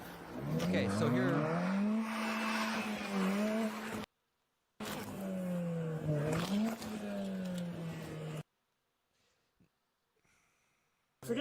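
A car in a police chase roars along with a rising and falling engine note and tyre noise, loud and close, cutting out abruptly twice before a quiet stretch.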